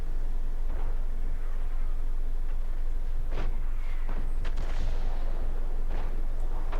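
Tank gun shots in a video game, a few sharp booming blasts spread over several seconds against a dense, constant background of battle and engine noise.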